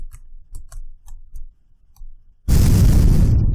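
Ship explosion sound effect in a JavaScript Asteroids game, a sudden loud noisy burst after a run of faint ticking clicks, ringing on and fading slowly.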